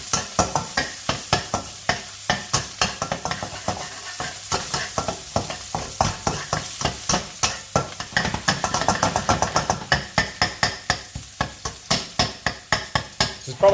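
Meat and tofu frying in a pan, a steady sizzle broken by repeated rhythmic scraping and clacking as the food is stirred and tossed, close and fairly loud throughout.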